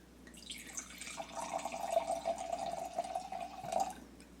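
Riesling wine pours into a glass in a steady, gurgling stream lasting several seconds, soft and close, swelling slightly before it tapers off.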